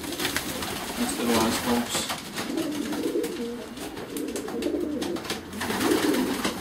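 Young pigeons cooing in a loft, a soft continuous burble running the whole way through, with people talking over it at close range.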